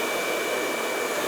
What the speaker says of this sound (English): I'm gonna blow dry on top to control